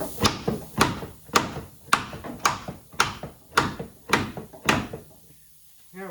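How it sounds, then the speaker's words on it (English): Hammer strikes on a ball joint bolt in a truck control arm during a Silverado/Sierra/Suburban/Tahoe/Yukon suspension rebuild: nine loud, evenly spaced metallic blows about half a second apart, then a brief faint voice. "time to hammer it the rest of the way out"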